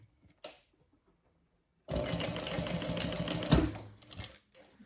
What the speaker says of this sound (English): we're just going to baste these short edges so it doesn't shift